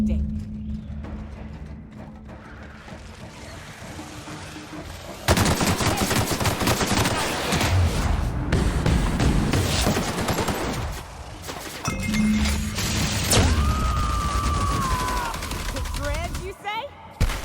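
Gunfire in the sci-fi shooter The Outer Worlds: loud, dense bursts of rapid shots and impacts fill most of the stretch, with brief lulls and a sweeping tonal effect near the end, alone without talk.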